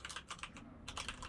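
Rapid typing on a computer keyboard, close and fairly quiet, with dense clusters of key clicks, a brief lull, then another quick burst.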